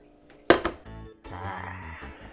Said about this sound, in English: my assistant is going to hand me the pot